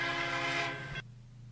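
A train horn blast, a loud sustained chord that sounds for about a second and then cuts off abruptly, leaving a low background rumble.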